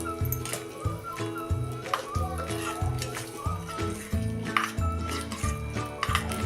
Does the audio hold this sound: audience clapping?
no